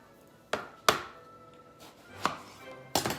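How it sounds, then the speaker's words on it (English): A kitchen knife cuts an eggplant into rounds on a board, producing four or five sharp, separate chopping knocks at uneven intervals with quiet pauses between. "slice our eggplant"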